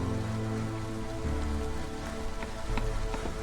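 Steady drizzle of rain in the colony-building video game Against the Storm, a soft continuous patter with faint scattered droplet ticks, holding at an even level throughout with no talking.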